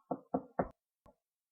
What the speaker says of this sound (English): there came a knock on the door